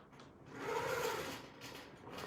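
A longarm quilting machine stitches along a crosshatch guide, a soft, rapid mechanical whirr that swells in the middle and eases off, quiet and close with no talking.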